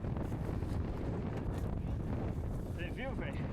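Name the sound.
strong wind while mountain biking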